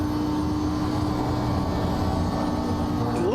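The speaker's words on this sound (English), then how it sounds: "the GT3s can take this little left kink straight, like full throttle" A GT3 race car held at full throttle through a fast left kink at Spa in a multiclass racing video game: a steady, loud, high-revving engine drone with a constant pitch and no gear changes, heard alone.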